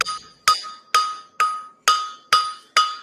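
A blacksmith drawing out hot steel on an anvil, with seven sharp, ringing hammer blows at a steady rhythm of about two per second, each strike leaving a bright metallic ring that fades before the next.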